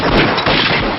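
A loud, close volley of rifle fire in a reenactment of the 1919 Jallianwala Bagh massacre in Amritsar, a brief dense burst of overlapping shots lasting about a second.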